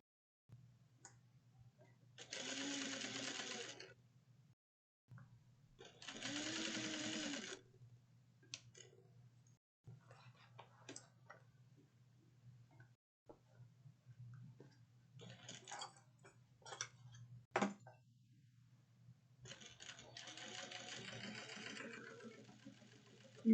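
A sewing machine stitches a denim bucket bag with a drawstring, running in several short bursts of whirring stitches separated by pauses and small clicks over a constant low hum, fairly quiet.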